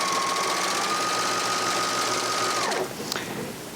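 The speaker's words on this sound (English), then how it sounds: "you want to stitch it out on a sample of the fabric" A Janome 8002D serger stitches a rolled hem at steady high speed with a continuous whirring hum, then slows and stops, followed by a light mechanical click.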